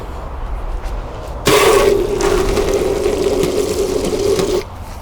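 Tap water rushes steadily through a garden hose fitted with a Venturi siphon fertiliser attachment, a loud continuous hiss and gush that starts abruptly and stops after a few seconds.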